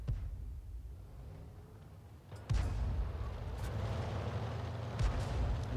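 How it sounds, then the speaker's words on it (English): 105 leFH18B2 artillery gun in a tank video game fires: a sudden heavy boom about midway, followed by a louder rumbling battlefield ambience with a couple of smaller distant thumps. "This Arty reloads very quickly, so he's going to have another shot."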